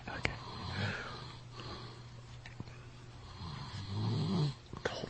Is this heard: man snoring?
yes